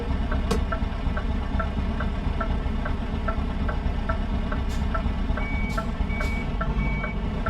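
A truck reversing slowly, its beeper sounding in a steady, evenly spaced series of tones over a loud, close idling diesel rumble, with a few brief clanks.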